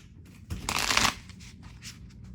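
Island Time Wellness Love Oracle cards shuffled by hand in a close, crisp riffling burst lasting about half a second, followed by a few softer card flicks and handling sounds in a quiet room.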